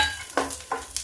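Lentil vadi fry in hot oil with a steady close sizzle, broken by three sharp scraping taps of a spoon stirring in the pan.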